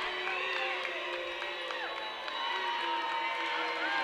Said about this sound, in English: University crowd not in favor of that foul